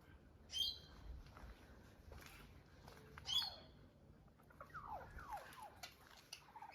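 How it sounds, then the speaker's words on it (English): Princess parrots calling in an aviary at a bird park, with two sharp rising screeches early on, then a run of quieter chattering calls over a low background murmur. "It's got princess parrots."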